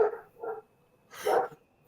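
A dog gives three separate barks, two short ones close together and then a louder, longer one after a pause, sounding fairly close in an indoor home setting.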